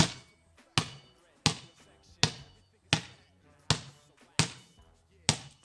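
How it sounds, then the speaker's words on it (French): A basketball bounces in a dribbling drill, eight sharp, evenly spaced thuds about every three-quarters of a second, each decaying quickly, close and clear with faint talk underneath. "des ballons en dribble décalé. Donc pendant qu'un ballon rebondit,"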